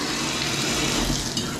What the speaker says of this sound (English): So when I turn the shower on, we still have water coming out of the tub spout